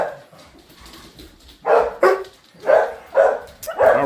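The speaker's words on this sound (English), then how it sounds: "It's these dogs." Several household dogs, among them Scout, whimper softly at first and then break into a run of close, loud barks in uneven bursts over a few seconds.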